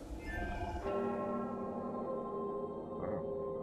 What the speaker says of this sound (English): we have to go there with the spooky bell chimes